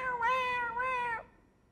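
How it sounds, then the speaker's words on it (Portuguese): Miau, a pet cat, lets out a single clear, close meow of about one second that rises and then falls away into quiet. "Às vezes eu estou dando aviso, ela está miando."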